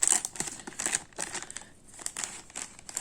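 Thin plastic sachet from a Capsule Chix doll being torn open, with quick crinkling and rustling bursts close by, broken by a brief pause midway.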